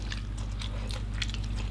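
Crisp bites into oven-free baked macaroni bread, several close crunchy snaps at irregular intervals over a steady low hum, with no talking.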